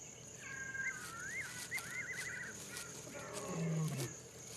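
A male lion gives one short, low roar near the end, set against a wild African soundscape of chirping birds and steady background hiss.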